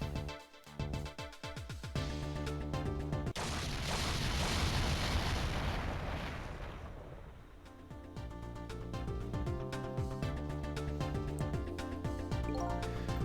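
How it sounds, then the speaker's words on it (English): An explosion in the Ghost Trick: Phantom Detective game, a loud, long rumbling burst of noise that swells and fades over several seconds between stretches of game music, with no talk. "I think I heard an explosion somewheres."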